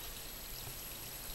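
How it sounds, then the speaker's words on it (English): A remote mountain spring pours and trickles in a steady, even rush, close and constant with no pauses. "this is a really reliable spring, and this is what I get my water from"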